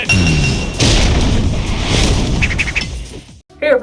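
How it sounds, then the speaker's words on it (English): Grenades burst in a Street Fighter 4 ultra combo by a Final Fight boss, a dense roaring blast of crashes and booms filling nearly four seconds, loud throughout before a brief drop and a final sharp hit. "This final fight boss opens with a nice flurry of hits with his rod to then throw a bunch of grenades to send them airborne."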